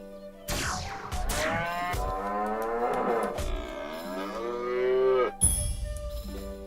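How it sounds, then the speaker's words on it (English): A cow moos long and loud in a video game fight, in two or three drawn-out, wavering lowing calls. A short sharp hit cuts in near the end. "Okay, I have to fight this cow."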